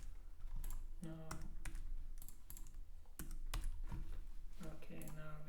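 Rapid keystrokes on a computer keyboard, a string of sharp, irregular clicks close by with brief pauses between bursts.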